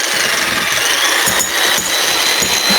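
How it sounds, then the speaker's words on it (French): Rapid jackhammer strikes against a wall in a video game, a loud continuous mechanical rattle with a few heavier bursts standing out, over steady background noise. "Mais c'est quoi ce marteau-piqueur, frère?"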